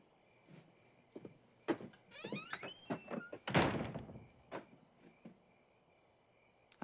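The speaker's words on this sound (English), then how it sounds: "Please close the door." A door is closed amid quiet indoor sounds, with a series of sharp clicks and a squeaky sliding movement before a solid thump, then a few fainter knocks, close by with no talking.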